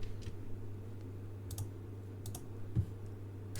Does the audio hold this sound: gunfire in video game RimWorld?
no